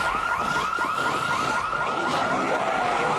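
A car alarm blares inside the zombie survival game Project Zomboid, its rising and falling warbling tone repeating steadily and loudly over a continuous rumbling background, with no one speaking.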